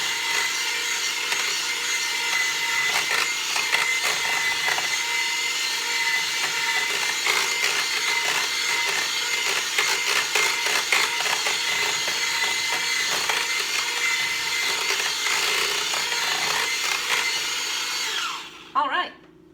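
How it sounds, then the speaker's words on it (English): An electric hand mixer whips cream cheese dip in a bowl at full speed, a loud, continuous whirring buzz with rattling beaters that runs steadily for many seconds, then cuts off abruptly at the end. "unplug your mixer first before you try to take out those beaters"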